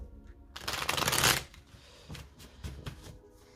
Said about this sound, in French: Alors maintenant, on va voir les cartes conseils pour la fin d'année.